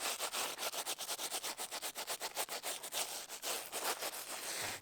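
Leather-hard clay is rubbed by hand during repair work on an old stone ruin, a rhythmic series of close, soft scraping strokes repeating quickly, about five per second, with no talk.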